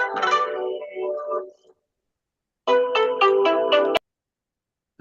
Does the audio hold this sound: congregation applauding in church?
no